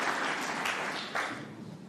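A crowd at a snooker final between Gary Wilson and Martin O'Donnell at the Welsh Open applauds, dense steady clapping in a hall that gradually fades out over about two seconds.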